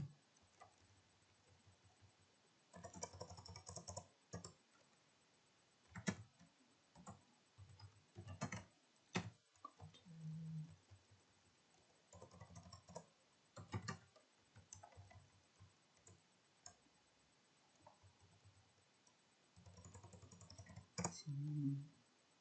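Keys clatter on a computer keyboard as database commands are entered, arriving in short irregular bursts of clicks with pauses between them and a voice talking over parts of it.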